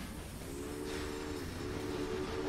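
Trains rumbling along the tracks in the railway management game Railway Empire, a continuous dense rolling roar with a sustained tonal hum running through it.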